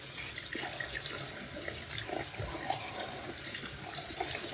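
Water runs from a tap into a bathroom sink and drains away, a steady close splashing and gurgling flow with no voices.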